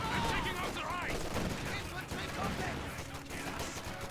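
Gunfire from American BAR automatic rifles in the World War II strategy game Company of Heroes 2: dense, continuous crackling bursts mixed with distant explosions in a busy battle soundscape.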